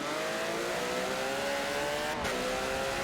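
A Porsche race car in Gran Turismo drones steadily through a series of S-bends, its engine note holding high and loud with small pitch shifts as it keeps off the walls.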